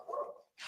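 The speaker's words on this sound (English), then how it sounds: "No, a dog barked." The neighbors' dog barks once, a short muffled woof that sounds somewhat distant, followed by a brief noise.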